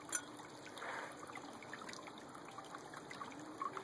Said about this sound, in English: So I've poured myself a wee dram.